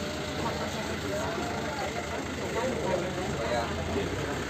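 A dump truck hauling waste idles with a steady low engine rumble at a waste processing site, running continuously throughout.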